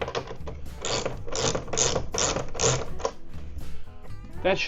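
Mounting bolts on a GIDROX 12V DC RV air conditioner being tightened, likely with a ratchet, giving a run of fast, loud clicking bursts in quick succession with short pauses between, close by.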